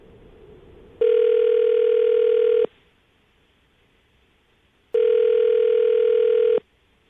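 Outgoing telephone call ringing through on a radio show line: two loud, steady ringback tones, each lasting about one and a half seconds, separated by a quiet gap of roughly two seconds, with no talking.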